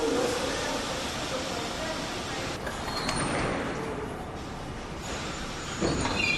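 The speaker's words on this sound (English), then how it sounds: "then I wait for the 6th train and get on" A New York subway 6 train on the Lexington line rumbles steadily, a low, continuous rolling roar with faint rattles and clatter, heard at a distance with a muted, even level throughout.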